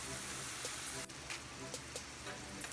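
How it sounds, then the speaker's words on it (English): Green onions and sweet Vidalia onions sautéing in a pan for calzone filling, a steady close hiss and crackle of frying with faint clicks, a voice talking quietly underneath. "Right now, I am just sauteing my green onions and my sweet Vidalia onions."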